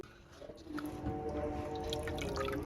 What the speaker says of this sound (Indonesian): Lalu tambahkan 1800 ml air. Selanjutnya ini diaduk dulu sampai tercampur